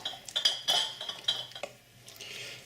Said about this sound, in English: spoon some of our chutney mix into the ladle, into the mouth of the